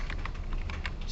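Rapid keystrokes on a computer keyboard during a recorded programming lecture, a steady run of close, crisp clicks with no talk over them.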